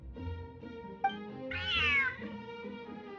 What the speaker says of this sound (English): Smart cat.